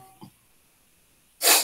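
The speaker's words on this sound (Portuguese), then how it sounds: "estou espirrando, viu?" A single sharp sneeze bursts out close by near the end, loud and breathy, following a faint small sound earlier and otherwise quiet indoor air at home.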